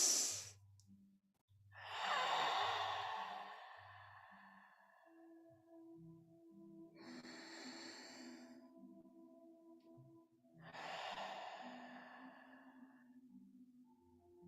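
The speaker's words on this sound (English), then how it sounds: "One deep breath. Let it out the mouth." Deep breaths let out through the mouth during a live music session, three slow, airy exhales spaced several seconds apart over a soft low instrumental drone.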